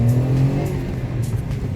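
A friend's car pulls up, its engine running loud and close in a steady low drone, with a brief tyre-like squeal near the start.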